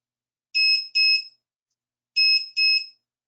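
A workstation ground monitor alarm sounds during a voltage test, giving two pairs of short, shrill electronic beeps, each pair a quick double tone separated by silence, loud and close.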